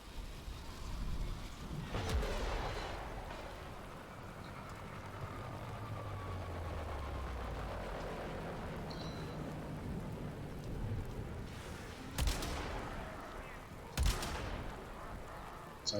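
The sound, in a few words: gunshots fired in the video game Warframe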